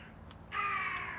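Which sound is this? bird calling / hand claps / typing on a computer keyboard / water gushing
bird calling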